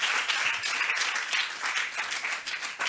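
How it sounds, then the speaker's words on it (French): A crowd applauds steadily and warmly for contest candidates at a live event, the clapping dense and sustained throughout with no talking over it. "Continuez à acclamer, non?"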